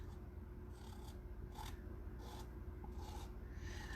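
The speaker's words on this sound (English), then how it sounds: "And now I'm going to scrape this up." Chalk paste scraped off a stencil transfer, black paste on the mesh, in short repeated rasping strokes about every half second, close and fairly soft, with no talking.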